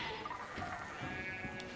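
Sheep bleating in the video game Pentiment, a wavering, nasal cry that rises and falls over about two seconds, fairly close and clear, with a fainter overlapping bleat near the end and no speech.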